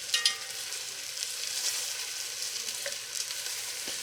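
Venison stew meat browns in a hot pan with a steady, close sizzle and crackle, broken by a few brief clicks and scrapes as the pieces are turned over with tongs.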